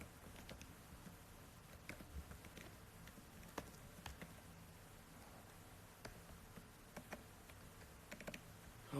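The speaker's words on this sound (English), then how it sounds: "I'm on my laptop and I have to type like this" Quiet, irregular clicking of keys on a laptop keyboard as someone types in short bursts. The sound is faint and close by.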